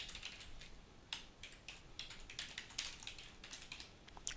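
A computer keyboard is typed on in a quick, uneven rhythm of soft clicks and taps as a domain name is entered, close and fairly quiet, with no voices.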